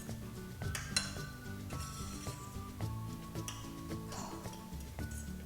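Faint clinks and soft scraping as butter and lemon zest are stirred into a pot, with light metallic taps against the pan and a quiet tonal background throughout.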